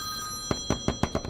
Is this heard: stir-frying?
no